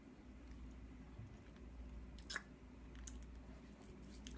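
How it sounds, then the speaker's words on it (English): Jelly bears being chewed up close, soft squishy bites with a few brief crunchy ticks, faint and steady over a low background hum. "I chew on jelly bears."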